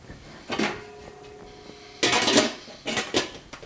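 A lidded pot of sarma, sour cabbage rolls, is set on the stove top: a lid clatter, then a louder run of metallic clanks and knocks as the pot is placed, near and without talk.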